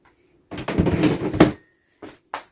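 A drawer at a makeup station slides open with a close sliding rumble lasting about a second, followed by two short soft knocks.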